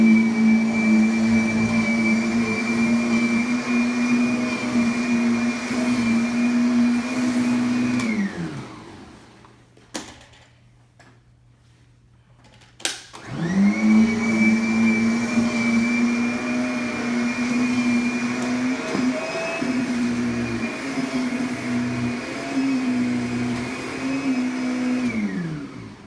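Kirby vacuum cleaner running loud and steady with a high motor whine, cutting off briefly near the middle with a couple of sharp clicks, then starting up again and droning on to the end.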